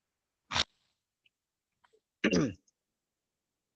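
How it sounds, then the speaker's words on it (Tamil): A single sharp sneeze, close and fairly loud, followed after a pause by another burst of throat-clearing or a second sneeze, with small faint noises between them in an otherwise quiet room. "சாரி தும்மல் வந்துருச்சு."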